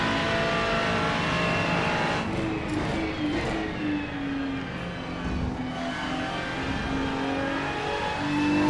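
A car engine drones steadily while driving, with a continuous mid-level hum and gentle rises and falls in pitch as it pulls along, tire and road noise underneath and no talking.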